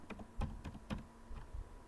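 A test name typed on a computer keyboard, a short burst of several distinct, close key clicks in uneven rhythm, with no talking.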